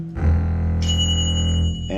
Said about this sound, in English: that bell might be an A flat